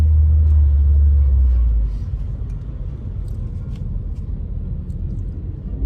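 A car on the road, heard from inside as a steady low rumble of engine and road noise throughout, with a heavier low throb in the opening seconds.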